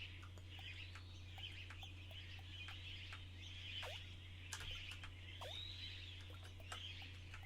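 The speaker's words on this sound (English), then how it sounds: "It's all sorts of birds." Birds in the Iconoclasts video game cluck repeatedly, soft and chirpy in an irregular rhythm, over a constant low electrical hum, fairly faint overall with no speech.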